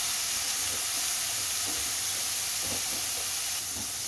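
Shrimp sizzling in a hot cooking pan, a steady loud broadband hiss that stays even throughout, close up, with faint low clatter underneath and no talk.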